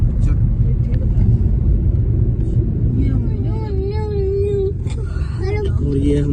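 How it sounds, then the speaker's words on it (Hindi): Car driving along a road toward Chandigarh, a constant loud low engine and road rumble heard from inside, with people talking over it throughout. "और ये हमारे साथ ये गाड़ी भी जा रही है आगे"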